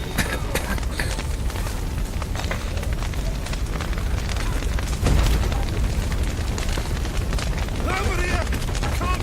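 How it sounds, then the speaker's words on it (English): A burning building's roof caves in inside the Witcher 3 game, with a sustained roaring fire, crackling bursts and a heavy booming crash midway, under in-game shouting voices. "Roof collapsed!"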